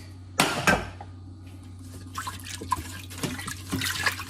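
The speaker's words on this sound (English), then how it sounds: "Here goes the 4 cups of water to deglaze the pan." Four cups of water are poured into a hot pan to deglaze it, with a splash at the start followed by sizzling, bubbling and scraping sounds against a steady kitchen hum.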